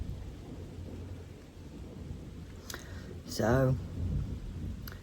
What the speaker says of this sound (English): we have got thunder.